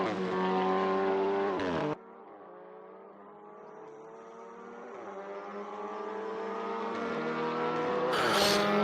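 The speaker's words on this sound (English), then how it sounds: "DHL Cupra racing car." A DHL-liveried Cupra WTCR touring race car in Assetto Corsa racing at the Slovakia round, its engine loud and steady, with sustained revving and gear changes, a sharp drop near two seconds, then a rising pull and a brief hiss near the end.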